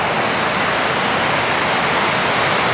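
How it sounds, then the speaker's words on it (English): Water rushing and cascading over rocks beneath a small park footbridge near Maritime Park in Bellingham, a steady, loud, unbroken roar with no breaks or voices. "a lot of water flowing through here"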